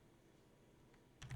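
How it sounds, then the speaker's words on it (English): A few quick keystrokes on a computer keyboard, close and soft, clustered at the end of an otherwise quiet room hum. "pull up your search menu and type"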